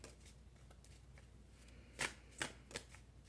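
Tarot cards being shuffled, faint rustling and riffling that builds into three crisp, louder snaps near the end, with no talking.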